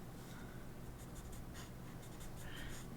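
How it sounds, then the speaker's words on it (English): Colored pencil strokes on paper while drawing a chibi dog, soft, faint scratchy scribbling in short repeated bursts, close up and without talk. "back to the colored pencil"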